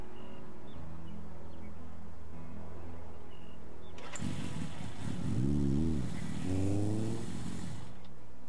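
Motorbike ridden in the game Gray Matter: a low engine idle gives way to a loud burst of noise and rising, falling revs as the bike pulls away.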